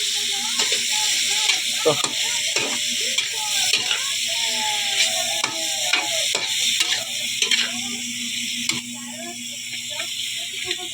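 Chayote sautés in a hot pan with a loud continuous sizzle and frequent scraping stirs of a utensil, close up, while someone talks over it briefly.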